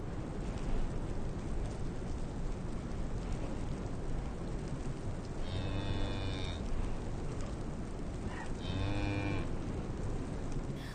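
Yaks in the Tibetan mountains give two drawn-out moos, each lasting about a second, a few seconds apart, over a steady wash of rain or wind noise.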